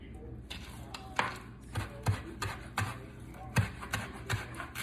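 Knife chopping a small handful of fresh parsley roughly on a board in a home kitchen, a run of sharp, irregular taps, close and moderately loud, some clustered in quick doubles.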